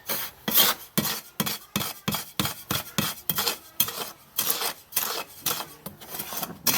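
Dry organic fertilizer ingredients being mixed by hand in a container, a rhythmic series of close, gritty scraping and rasping strokes, roughly two per second, with brief pauses between them.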